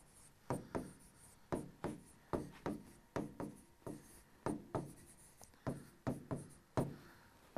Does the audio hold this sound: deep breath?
no